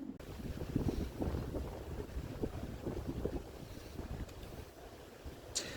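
Steady gusts of strong wind blow and buffet across an outdoor town square, rumbling continuously and close at hand with no clear talk.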